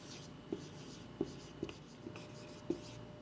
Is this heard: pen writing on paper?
yes